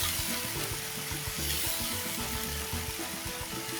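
Fried noodles sizzle steadily in a hot pan, a dense continuous crackle that stays close and fairly loud for the whole stretch, with no voices over it.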